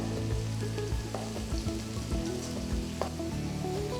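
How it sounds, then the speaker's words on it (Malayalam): Chopped onions and finely chopped garlic fry in a pan with a steady, close sizzle, broken by scattered crackles and pops and occasional stirring. "അണിയൻസ് ഒന്ന് സോഫ്റ്റ് ആകുന്ന വരെ കുക്ക് ചെയ്യുക."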